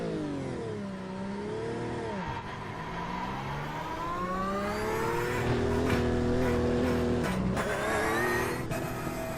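Porsche race car engine in the iRacing sim on the Nurburgring, revving and shifting through gears with rising and falling pitch, loud and close, with a few sharp clicks.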